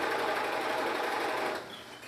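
A sewing machine stitching together 21 by 21 inch fabric squares runs in a fast, continuous whirring hum, close and steady, then slows and quiets near the end.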